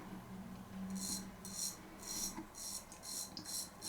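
A J A Hellberg Swedish Rattler grind straight razor scrapes across stubble in a series of short, crisp rasping strokes. The strokes come in a steady rhythm, close and fairly quiet, with no talking.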